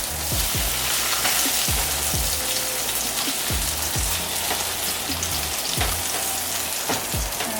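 Corn tortillas dipped in birria consommé sizzle loudly on a hot griddle, a dense continuous frying hiss with scattered pops and crackles, close up and with no voices.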